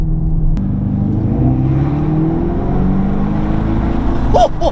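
2025 Dodge Charger EV electric car accelerating hard, a rising synthetic whir and hum climbing steadily in pitch, loud and close, with a brief voice-like burst near the end.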